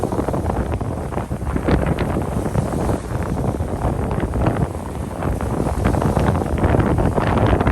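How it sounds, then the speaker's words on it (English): Strong wind buffets the microphone during sea fishing on the Conwy Estuary, a steady, loud rumbling roar that fills the whole stretch with no voices. "I apologise about the wind."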